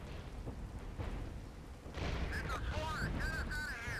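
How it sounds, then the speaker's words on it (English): Heavy artillery fire pounds Leopard tanks in the war game Regiments, a dense run of deep booming blasts and rumbling explosions that builds louder midway, with faint game sounds layered over it. "The Leopards here are getting completely hammered by artillery"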